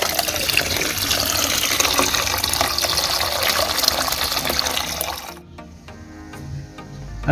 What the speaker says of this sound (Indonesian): Oke, bentar, saya campur dulu dengan air